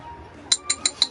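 A drinking glass tapped four times in quick succession, giving bright ringing clinks close by against a quiet room.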